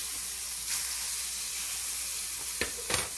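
Duck breasts sizzle in a frying pan, a steady loud hiss of spitting fat with a couple of sharp crackles and bursts near the end.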